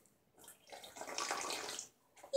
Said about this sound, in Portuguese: ele ouviu o barulho de águas